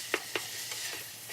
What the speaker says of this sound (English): I'm gonna just kind of move it around, brown it up, kind of crumble it as I go